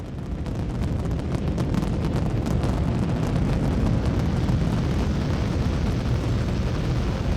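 A rocket ignites and launches from a pad in the game Eden Crafters, a loud continuous roaring rumble with crackling bursts that holds steady throughout, no voices.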